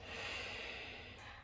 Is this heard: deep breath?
yes